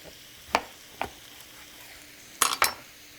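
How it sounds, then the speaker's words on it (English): A kitchen knife halving a butternut squash on a cutting board gives a few sharp, close knocks, a single one followed by a quick double strike, with quiet gaps between and no talking. "And the easiest way to cut butternut squash take it, cut it directly down the middle."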